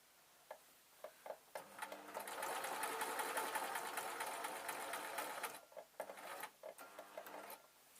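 A sewing machine stitches a simple jacket with binding tape in one steady run of about four seconds, framed by quieter ticks and handling clicks before and after.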